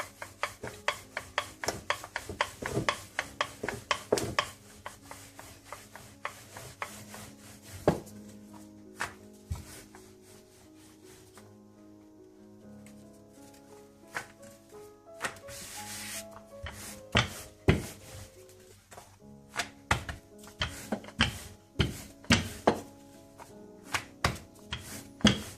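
Radish paratha dough being rolled into a flatbread with a rolling pin, a steady run of rubbing, knocking strokes close up against a faint musical background, with no talk.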